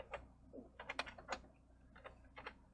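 Hunt-and-peck typing on a computer keyboard gives sparse, uneven key clicks in small clusters with pauses between them, close and quiet.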